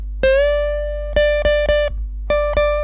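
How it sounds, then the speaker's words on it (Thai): An electric guitar note plucked on the second string at the 13th fret and bent up a whole step, then several quick repeated picks of the same pitch in an uneven rhythm. "ดันหนึ่งเสียงเต็มสาย 2 ช่อง 13"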